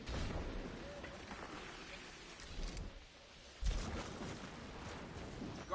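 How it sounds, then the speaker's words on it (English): Bursts of gunfire and blasts from enemy goblins during a Destiny raid, rising and falling in intensity with sharp louder hits near the end, under and between quiet voices. "are you enjoying those goblins shooting you?"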